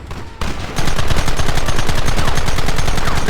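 Gunfire in the Western video game Red Dead Redemption erupts loud and close, many rapid overlapping shots in a dense, continuous volley that runs without a break.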